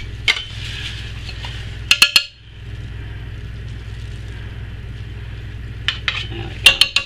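Soap batter being scooped off a mould while making a circle embed Aqua di Gio soap, with a few sharp scraping clinks of a utensil against the mould over a steady low background hum.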